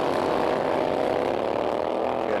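A Harley-Davidson Sportster-engined motorcycle races on ice at a 1994 LaPorte ice racing event, giving a loud, steady, unbroken engine drone throughout, close and constant with no talk.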